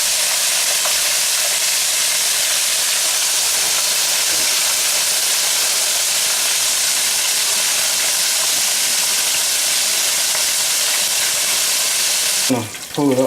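Buttermilk-coated pork chop deep frying in hot oil, a loud, steady broadband sizzle and bubbling that runs alone and unbroken, with a brief clatter near the end.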